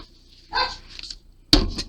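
A pet dog barks in a room, with two short, sharp bursts that are loud and close. A quieter rustle comes between them.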